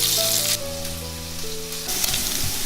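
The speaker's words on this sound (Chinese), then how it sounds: "先把3层放下来，煸出油来" Pork belly sizzles in lard in a hot pan, a steady loud frying hiss with a tonal hum of background music running beneath it.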